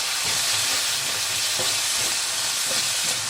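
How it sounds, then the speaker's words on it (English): Roasted red chili paste and red curry paste frying together in a pan, a loud steady sizzle with faint stirring scrapes, continuous and close with no talking. "I'm going to let all of that fry together."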